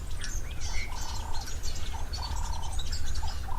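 Several birds call at an open waterhole: high chirps and warbling whistles and two drawn-out fluting notes at mid distance, over a constant low rumble of wind or background noise.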